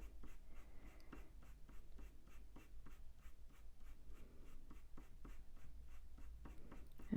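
A blunt pencil scratches steadily on paper while colouring a ginger tom cat drawing, with quiet, close, rhythmic back-and-forth strokes repeating evenly throughout.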